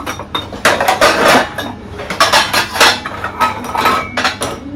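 Metal pots and utensils clatter and clink in a kitchen while someone rummages for a pot to boil tea water, loud, close and irregular with repeated bangs.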